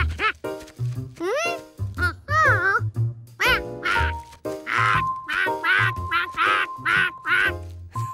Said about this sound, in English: Duckling still thinks George is its mother.